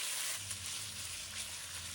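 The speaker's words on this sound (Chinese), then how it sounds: "直接放入瘦肉，开中火迅速将它炒散" Lean pork stir-fried in cooking oil in a preheated wok over medium heat gives a steady, moderately quiet sizzle that runs continuously, with no voices.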